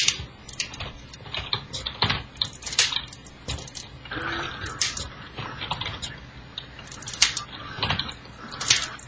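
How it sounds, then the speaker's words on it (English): Irregular bursts of computer keyboard keys clatter during gameplay, clustered taps and presses with brief pauses, close and fairly loud. "I cannot play this shit on keyboard."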